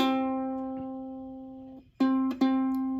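Ukulele C string, the thickest string, plucked once and left ringing and fading, then plucked twice more in quick succession, clear and close.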